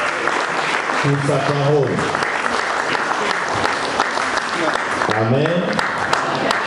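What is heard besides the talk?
church congregation applauding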